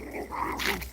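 A pet dog gives a brief, close whimpering whine that rises and falls over about a second, with no other sounds around it.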